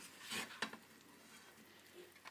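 A spoon scrapes and stirs drained pasta into a bacon and mushroom carbonara sauce in a pan taken off the heat, with soft, brief clinks and wet shuffling, quiet and close.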